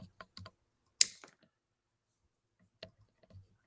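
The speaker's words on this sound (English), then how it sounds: "I cut this cable." A shielded cable is snipped through with cutters during an Atari C-380 teardown: one sharp, close snap, with a few light clicks and handling taps around it, no talking.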